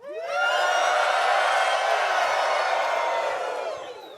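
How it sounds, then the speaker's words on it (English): At a concert in Amsterdam, an audience breaks into loud, high-pitched screaming and cheering that swells quickly, holds for a few seconds, then fades. "when I film, I want you to scream"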